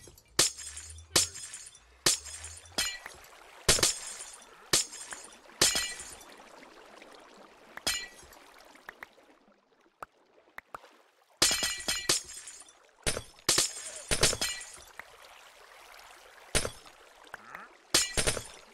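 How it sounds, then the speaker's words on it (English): Ice or glass blocks shattering in Minecraft, a string of crisp, bright breaking bursts in quick clusters with short gaps, close and loud, alone without talk. "I hope that the sound of that breaking is the sound of ice breaking, or glass breaking too"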